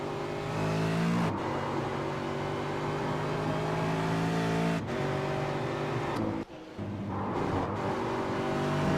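A race car pulls out of the pits at Road Atlanta, its engine revving hard through several rising gear pulls, loud and close, with brief drops between shifts.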